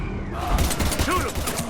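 Gunfire in the video game Mass Effect, a dense burst of rapid shots close up with rumbling battle noise, mixed with voices and game effects.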